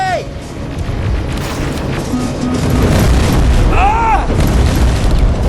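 Incoming rockets explode in Terminator: Resistance, a heavy booming rumble building and rolling on loudly, with a brief shout mixed in.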